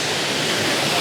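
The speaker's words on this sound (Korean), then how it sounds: "오늘 트윈폴스 이곳 마우이에 있는 아주 아기자기한 폭포" Small waterfall at Twin Falls on Maui, a steady, dense rush of falling water, close and loud, holding constant without pause.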